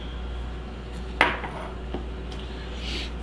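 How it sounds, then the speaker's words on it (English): Metal fork against a dish while mixing fish sandwich filling: a sharp clink near the middle, then a few softer scrapes and taps, close and fairly quiet with no talking. "I'll use a fork to mix up anyway"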